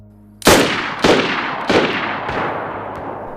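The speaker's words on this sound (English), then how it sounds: "the Winchester, has a very unique sound at close range, but sounds exactly like the Blaze and the AKs past 50 meters" Winchester M70 rifle gunfire in the video game DayZ, heard at close range: four loud, sharp shots about half a second apart, each cracking hard and trailing off into a long ringing decay.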